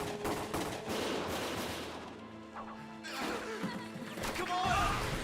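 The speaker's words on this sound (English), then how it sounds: "Gunshot. Everyone keep your heads down!" Gunfire and crashing impacts in the Valkyria Chronicles video game, bursts of shots with harsh broadband cracks recurring over several seconds amid a dense battle mix, loud and close.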